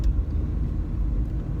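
Steady low-pitched road rumble fills the cabin of a moving car, a constant droning hum with no voices over it.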